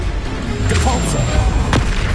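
A Depulso spell cast in Hogwarts Legacy on PS5 lands as a booming, punchy blast with a sharp crack near the end, over a dense rumbling battle background.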